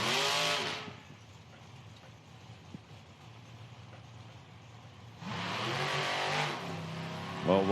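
A Super Rod door car drag racing run at an IHRA Outlaw Nitro event in Hebron, Ohio, opens with a loud close roar, fades to a distant low rumble, then roars up loud again as the cars pass.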